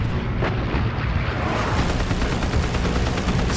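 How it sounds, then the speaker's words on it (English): Heavy .50 caliber machine gun fire from Hellcat fighters strafing a cruiser and destroyers at the Battle of Leyte Gulf, a loud, continuous roar of rapid bursts and booming blasts mixed with flak. "the Hellcats blister the cruiser and destroyers with 50 caliber machine gun fire and 5-inch rockets"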